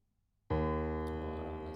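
One low piano note, D sharp 1 from a sample played in Ableton, struck firmly after a brief silence and left ringing with a full, slowly fading sustain.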